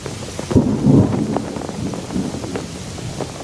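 A storm at sea in 1823 brings loud thunder rumbles over steady heavy rain, with bursts of crackling and booming rising and falling throughout, no speech.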